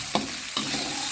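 Shallots and garlic stir-fried in a pan, a soft steady sizzle with two brief scraping stirs, close and fairly quiet, no talk.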